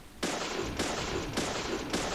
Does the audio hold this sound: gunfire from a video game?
yes